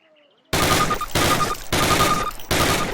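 Automatic weapon fire in the Call of Duty video game, four loud sustained bursts of rapid gunfire separated by brief gaps, close and dominant after a short quiet opening.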